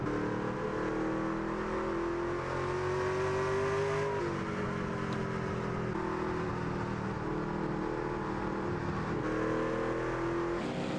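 Race trucks in a racing video game drive in a pack, engines droning and revving steadily with pitch dips as they shift and lap slower trucks, a continuous loud, close engine roar throughout.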